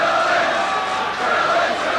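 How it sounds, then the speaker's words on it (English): Dense roaring crowd noise at a Leeds versus Bradford Northern rugby cup match, with fans cheering and chanting for Bradford in a loud continuous wash as a commentator talks over it. "The crowd really behind Northern now."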